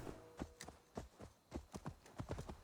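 Horse hooves clip-clop in Assassin's Creed Valhalla, a brisk irregular run of hoof strikes on the ground, moderately close and fairly quiet.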